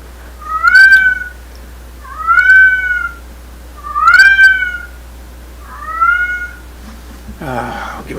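A cat meows four times in slow succession, each call loud, close and drawn out, followed by a short burst of other noise at the end.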